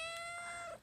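A pet cat gives a short, faint meow-like call that lasts under a second, with no talking.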